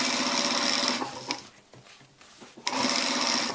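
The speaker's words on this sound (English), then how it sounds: "Now I'm stitching all the way along where the color joins the neck piece" A sewing machine stitches a shirt collar to the neck piece in a loud, fast, steady whir. It pauses briefly for about a second and a half of quieter handling noise, then resumes stitching.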